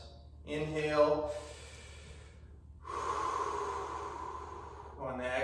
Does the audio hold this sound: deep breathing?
yes